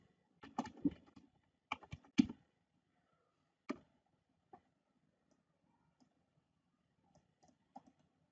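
Typing on a computer keyboard to enter a headline in a spreadsheet: quick bursts of close, crisp key clicks early on, then sparser single taps trailing off into quiet.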